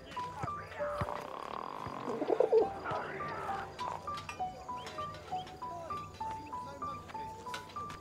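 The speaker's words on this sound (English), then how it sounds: "Send the pigeon to Raphael's face" A pigeon in the video game 11-11 Memories Retold coos in soft, repeated low calls over an ambient game soundscape with other scattered bird chirps and a brief flutter of activity.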